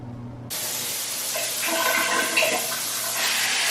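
A hotel shower with waterfall and handheld heads gushes on suddenly, a dense, loud, steady rush of spraying water close by, continuing without pause.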